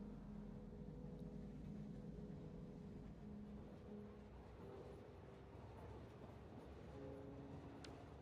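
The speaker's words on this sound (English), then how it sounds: "let's take the next train, which he's already coming" Train arriving in the Satisfactory video game, a steady low rumble with faint tonal hums that holds constant throughout, distant and quiet.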